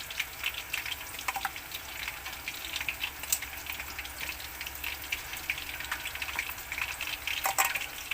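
Chicken wings for buffalo wings fry in hot oil with a steady close crackling sizzle, popping and spitting throughout, and no voices.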